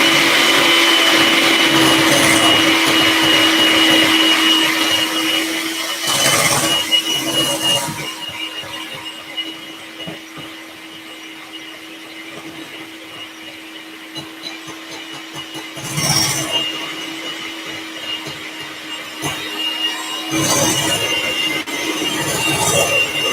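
An electric mixer whips cream for a Boxing Day bake, a loud steady whirring hum that runs continuously and shifts in pitch and intensity as the beaters work.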